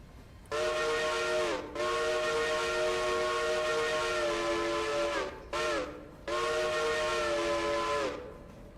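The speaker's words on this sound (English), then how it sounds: "There are a lot of nice sounding whistles." A steam locomotive whistle in the railroad game Railroader, sounding loud and close in three long sustained blasts separated by short breaks, the last two nearly run together, with no voices.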